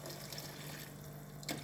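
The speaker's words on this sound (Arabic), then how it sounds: "بالنسبه للماء نحطوا شويه برك تاع ماء" A little water poured into a simmering shrimp sauce gives a steady, close liquid splash and trickle, with a brief louder splash near the end.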